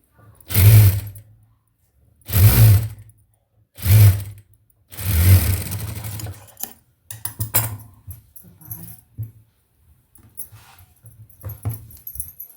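A tailoring sewing machine stitches across a blouse in several loud mechanical bursts, each a couple of seconds long with pauses between. These are followed by quicker, choppier runs of stitching and handling clatter.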